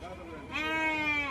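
Young Ongole Judipi sheep bleat at the Gudur sheep market, one long, close, wavering cry that rises after a shorter call, with voices in the background.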